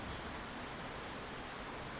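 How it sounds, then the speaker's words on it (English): Steady rain falls throughout, a soft even hiss of drops on surfaces with no voices, faint and continuous like a wet countryside downpour. "Will you not wait for the rain to clear?"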